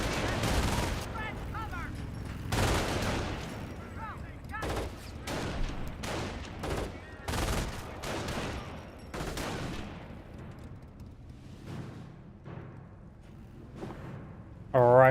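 MG42 machine gun in Company of Heroes firing repeated bursts amid other battlefield gunfire, loud and sharp with a commentator's voice talking underneath.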